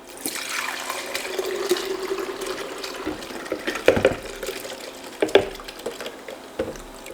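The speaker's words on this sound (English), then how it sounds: "I'm just gonna dump all of this in and then we're gonna blend it up" Fermented hot sauce mash and its liquid are poured into a blender, a wet glugging, splashing pour with a few clunks and thumps near the end, close and fairly loud, with no talking.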